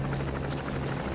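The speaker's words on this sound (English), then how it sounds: "except for the helicopter" Helicopter in the video game Metal Gear Solid V, a steady low rotor drone holding loud and unbroken throughout, with no talk over it.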